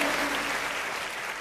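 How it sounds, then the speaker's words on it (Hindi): Audience applause at a Hindi kavi sammelan poetry gathering, a dense, steady clapping from a crowd that holds loud throughout and fades only slightly toward the end. "ताली बजाओ, सांस लेना है।"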